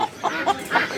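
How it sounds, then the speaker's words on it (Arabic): Rooster at a poultry market in Qatar giving a few short, close clucks in a loose rhythm, with no talk over them. "هذا ديك"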